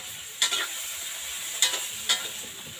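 Fish sizzles steadily in a hot frying pan, a constant bright crackle broken by three short louder spits or stirs, close up with no talk.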